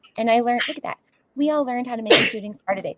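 Someone sneezes once during a relaxed conversation, a sharp, loud burst breaking between stretches of close talking voices.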